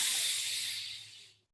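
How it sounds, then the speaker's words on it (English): A single deep breath drawn in through the nose, a soft airy hiss lasting just over a second that tapers off into silence. "And a final deep inhale through your nose"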